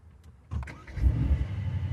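A Mythos sports car engine cranks and fires after a press of the start-stop button, with a short burst of starter noise and then a rising, rumbling idle that holds steady, loud and close.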